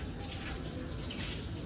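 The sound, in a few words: water running while washing down one side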